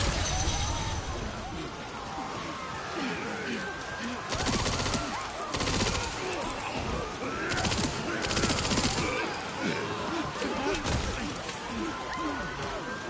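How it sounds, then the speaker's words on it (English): Machine-gun fire rattles in dense, continuous bursts in the Resident Evil Requiem survival mini game, loud and sustained over heavy game noise, with short pauses between volleys. "The machine gun."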